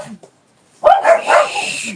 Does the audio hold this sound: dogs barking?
yes